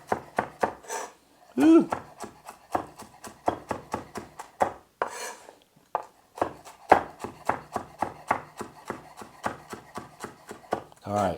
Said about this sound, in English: So this is just getting a basic rough cut before I put it here in the blender